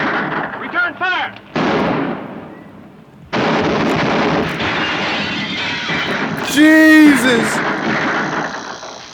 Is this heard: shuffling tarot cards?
no